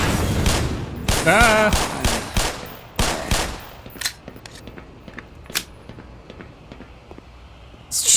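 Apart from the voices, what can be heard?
gunfire in the video game Black Mesa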